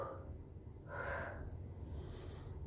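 Someone doing a warm-up with hands on the thighs, moving between a rounded back and a flat back, breathes out and in audibly. The breath is a soft, airy rush over a steady low background hum.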